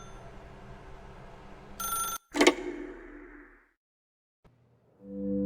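A telephone in The Stanley Parable game gives a loud electronic ring burst followed by a fading ringing tail, then near silence, a small click and a low hum swelling at the end.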